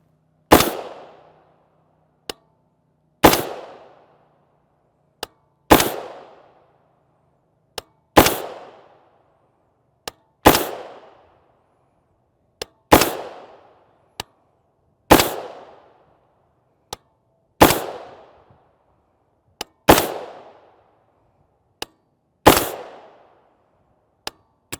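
A 300 Blackout rifle with a longer 1-in-8 twist barrel fires 208gr subsonic A-MAX rounds unsuppressed. Ten sharp, loud reports come at steady intervals of about two and a half seconds. A faint click follows some shots, and there is no talk.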